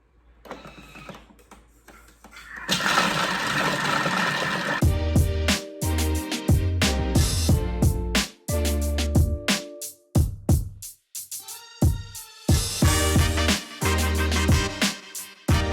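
A Thermomix whirring as it melts ingredients on speed 3 at 60 degrees for a Weetbix slice, a loud mechanical hum with rhythmic knocking and pulsing bursts, no voices.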